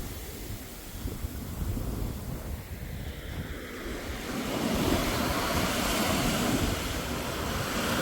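Ocean waves breaking and washing ashore on the East Yorkshire coast, a steady broad roar of surf with wind buffeting the microphone, growing louder and fuller in the second half.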